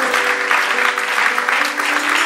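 Church congregation applauding during a sermon, a dense, loud, sustained burst of clapping from many hands that fills the whole space.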